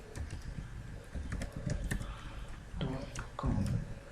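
Quick bursts of keystrokes clatter on a computer keyboard as a ping command is typed, irregular close clicks with short pauses between groups.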